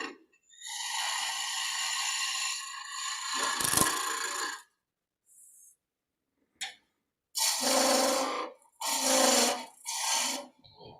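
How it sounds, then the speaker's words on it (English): A skew chisel cuts a spinning wooden piece on a lathe, a harsh broadband scraping that runs steadily for several seconds, then returns in short rough bursts separated by pauses, loud and close. "So this is a skew chisel"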